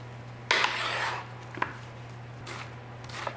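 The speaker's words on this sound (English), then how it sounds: "I turn it to the side and slice a little bit off the top so it sits a little closer to the cutting board" A knife slices through an onion on a cutting board, with a long close scraping cut followed by three shorter, fainter strokes over a steady low hum.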